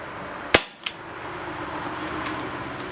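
Baikal IZH MP-655K CO2 pellet pistol fired once in single-action mode: a single sharp, loud crack followed by a brief metallic after-click, then quiet room tone.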